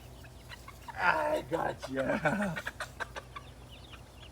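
Chickens, including a big one, cluck in short, fairly quiet bursts at a farm, mixed in with someone talking nearby.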